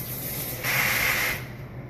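Tap water runs briefly for hand washing in a home kitchen, a sudden steady hiss that starts, holds for under a second and stops against a quiet background.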